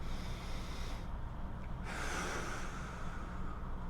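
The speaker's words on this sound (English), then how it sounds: "So I could breathe a full stomach breath" A deep, full stomach breath taken during a breathing exercise, heard as a steady, close airy rush with a brief pause in the middle and no talking.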